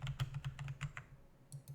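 Computer keyboard keys clack in a quick irregular burst of about eight presses, then pause before two more taps, close and quiet with no talking.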